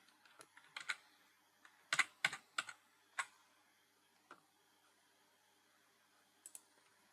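Typing on a computer keyboard at a terminal prompt: short bursts of crisp, close key clicks, a quick cluster then scattered single taps with pauses, alone with no talk.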